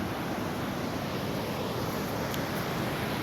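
Ocean waves roll in under wind, a steady broadband wash with gusts buffeting the microphone and no voices.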